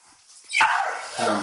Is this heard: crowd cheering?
no